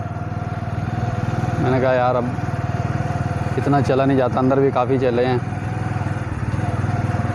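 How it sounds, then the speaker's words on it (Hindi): Motorcycle engine running steadily at a poultry farm, a constant low drone throughout while someone speaks over it in Hindi. "यार ये पोल्ट्री फार्म काफ़ी लंबा था तो मैं बाइक पे ही बैठ गया हूँ।"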